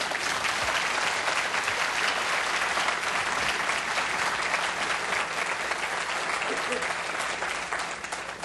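A clinic audience gives a long, steady round of applause, dense clapping from many hands that carries on evenly for several seconds before tapering slightly at the end.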